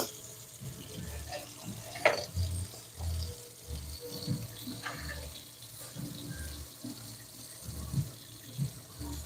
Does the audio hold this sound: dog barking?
no